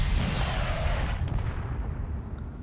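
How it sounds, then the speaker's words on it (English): Heavy missile launch from a middle-sized ship turret in a video game, a loud roaring blast that fills the first second and then trails off into a long rumbling decay, heard alone. "So it fires 2 missiles and then it's reload really long time"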